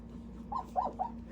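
A four-week-old Sheepadoodle puppy gives three soft whimpering yips in quick succession, close but faint over a low steady hum.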